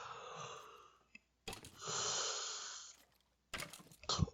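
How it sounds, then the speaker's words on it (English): A person yawning, drawn-out breathy exhalations with a long sustained middle stretch and short sniffs and breaths around it, close and fairly quiet with no talking. "I'm sorry for the yawning."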